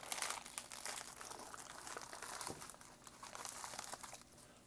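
A plastic MRE accessory pack from a 1996 US military ration is torn open close by, faint crinkling and ripping of packaging in a quiet room.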